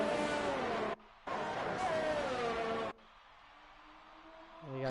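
Racing cars in a PS4 Formula racing game at Singapore scream past at close range with a loud, high engine whine that bends in pitch. The sound cuts out twice, then settles into a quieter distant drone as another engine rises.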